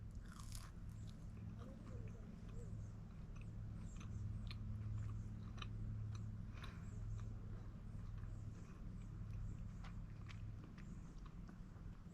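Close, steady biting and crunchy chewing of a savory seasoned campstove treat, repeated bites and mastication over a low constant background hum, with no talking.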